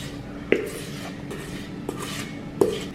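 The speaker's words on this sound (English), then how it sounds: "We're gonna stir it until it's just combined" Muffin batter stirred in a bowl with a utensil, a few sharp clinks against the side at irregular spacing over a soft background, nobody speaking.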